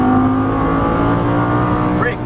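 A Lamborghini engine revs under throttle on a track, a loud steady tonal drone that holds and climbs slightly, with an instructor's voice talking over it.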